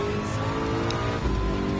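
A Ford GT race car engine roars at high revs on the Daytona road course in Gran Turismo 7, a loud, sustained, steady-pitched whine that stays close and continuous.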